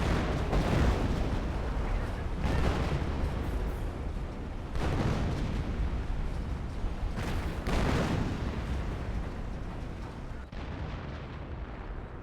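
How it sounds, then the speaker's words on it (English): Artillery barrage in the World War II strategy game Company of Heroes: a dense, continuous rumble of heavy booms and blasts, with several louder explosive bursts rising out of it. "Automatic artillery barrage there."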